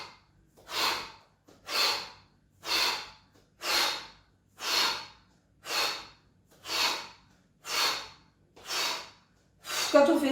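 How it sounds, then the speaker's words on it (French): Deep mouth breaths during a Five Tibetans exercise session, a slow, even rhythm of about ten loud airy exhales or inhales roughly one second apart, close up with no talk. "Et on respire par la bouche."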